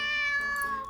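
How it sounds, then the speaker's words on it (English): A cat meows softly in a video game, one drawn-out, slightly wavering cry heard up close over steady background music. "I hear a little meow from below me."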